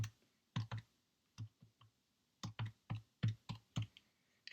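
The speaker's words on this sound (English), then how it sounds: "we are just going to type that into the calculator" Calculator keys are pressed one at a time in an uneven string of about a dozen short, crisp taps, close and quiet, some in quick pairs, against near silence.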